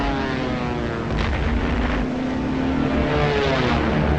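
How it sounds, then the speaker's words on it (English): German bomber aircraft engines in wartime newsreel footage, a loud continuous droning roar that holds steady and fills the whole stretch with a rough, slightly wavering tone. "German bombers attacked English ports"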